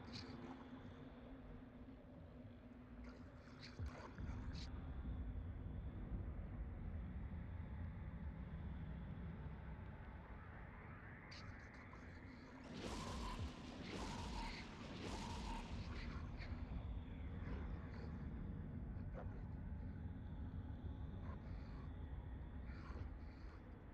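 Missile tubes fire in a space battle in the game Eve Online, with a steady engine drone underneath and a burst of bright crackling launch noise midway, all heard without talk.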